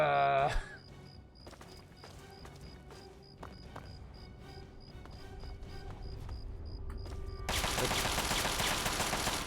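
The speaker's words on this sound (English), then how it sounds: "Oh, he's got an assault rifle." Assault rifle fire in Fallout 3: rapid bursts of sharp gunshots spread across the scene, growing louder and denser toward the end over constant game background noise.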